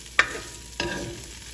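Flour and seasoning cooking in a pan for jambalaya, two bursts of stirring scrape followed by a soft ongoing sizzle, close and moderately loud, with no talking.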